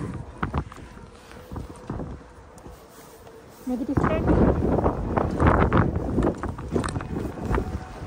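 Strong gusting wind on a mountain platform in Zermatt in January, buffeting the microphone with loud, rough roaring that grows stronger midway, while people talk.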